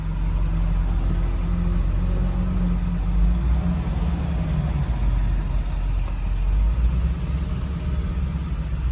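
Steady low diesel rumble from a 2000 Ford Excursion with the 7.3 Powerstroke engine, heard from inside while driving, a constant drone with no talking.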